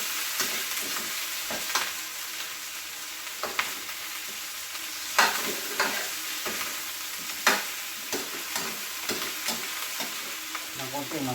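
Green beans and chicken feet fry in a pan, with steady hissing sizzle broken by repeated stirring scrapes and clacks at irregular intervals, close and moderately loud with no talking.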